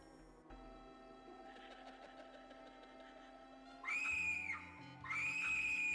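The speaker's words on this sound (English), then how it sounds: "A very generic scream." In The 7th Guest video game, a low mechanical hum with a soft rhythmic pulsing gives way to two loud, shrill, generic screams, the second one following shortly after the first.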